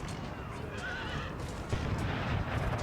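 Horses neigh and gallop through a dense, noisy battle soundscape in Empire: Total War, a whinny rising over the din of hooves and distant gunfire rumble.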